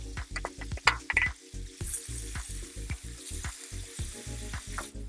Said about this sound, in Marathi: तेल असं गरम झालं की याच्यामध्ये अर्धा चमचा जिरं एक मोठ्या आकाराचा अशा पद्धतीनं एकदम बारीक असा चॉप केलेला कांदा